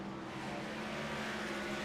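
A stock race car roars past at North Wilkesboro Speedway during a Freedom Racing Series race, its engine a steady, loud, buzzing drone held close throughout with no talk over it.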